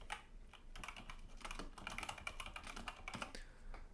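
Steady, continuous typing on a mechanical keyboard fitted with green switches, a dense run of crisp clicky keystrokes heard up close and alone with no talking.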